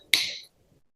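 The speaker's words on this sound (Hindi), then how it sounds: "मेरी चुटकी बजाऊंगा" A single crisp finger snap, close and bright, cutting sharply out of near silence and fading within half a second.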